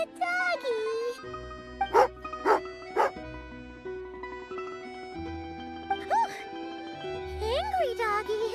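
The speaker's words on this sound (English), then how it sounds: "Angry doggy." A dog in the video game Genshin Impact lets out a few sharp, snappy barks in quick succession, followed by whimpering yips, set over a soft musical background.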